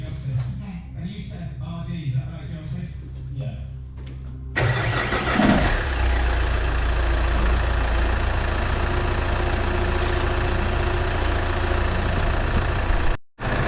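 A Vauxhall Insignia with an alternator overrunning pulley and belt tensioner fault cranks and fires up, then settles into a steady, vibrating idle close by, with a voice speaking over the start.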